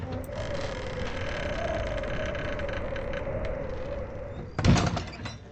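A tavern door in a tabletop game scene creaks open with a sustained groaning squeal, then shuts with a sharp thud near the end.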